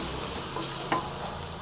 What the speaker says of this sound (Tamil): அதையும் போட்டு நல்லா ஃப்ரை பண்ணிங்க